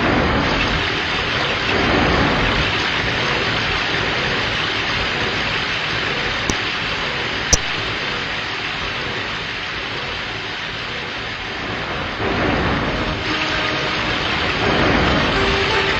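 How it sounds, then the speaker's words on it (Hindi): A storm sound effect of heavy rain, a dense and continuous roaring wash of downpour with faint rumbles of thunder and a couple of brief sharp clicks, loud and steady throughout. "जोर जोर से बारिश होने लगी।"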